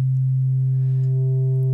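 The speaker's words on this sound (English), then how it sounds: "with a soft mode of distortion" A steady low sine tone with soft distortion adding a few quiet upper harmonics, holding constant and alone at moderate level for under two seconds.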